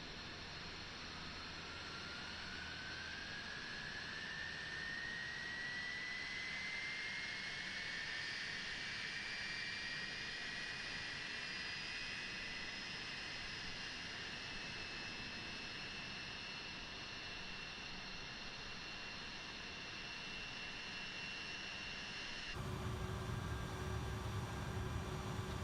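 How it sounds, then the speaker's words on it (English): Engine 2 of an MD-80 jetliner spools up in Microsoft Flight Simulator, a faint steady whine rising gradually in pitch over many seconds before a louder rumble cuts in at the end. "We're ready to start engine 2."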